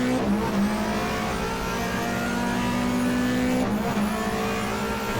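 A rear-wheel-drive Ford Sierra race car in a GTR2 game at Eastern Creek, its engine droning loud and steady in a sustained mid-pitched roar with a gear-change dip near the end, no speech.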